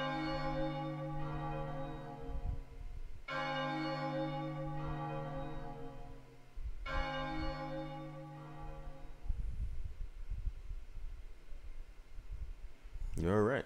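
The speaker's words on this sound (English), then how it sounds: "Ring out, Bell of Oblivion!" The Bell of Oblivion in Chocobo's Mystery Dungeon Every Buddy tolling three times, deep resonant church-like strikes each ringing out for several seconds, followed by quieter game noises.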